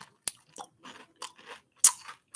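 Crunchy hot chips are chewed up close: several sharp, loud bites followed by bursts of brittle crunching with short pauses between them, no talk over the chewing.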